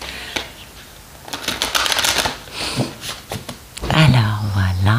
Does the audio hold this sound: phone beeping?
no